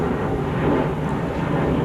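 A fixed-wing airplane passes overhead at an outdoor motorsport event, a steady low engine drone of moderate loudness with no speech.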